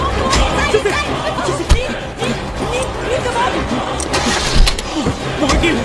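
A jeep's engine starting and running with a rough mid-range rumble amid a busy film scene, with voices talking and chattering over it and a sharp knock partway through.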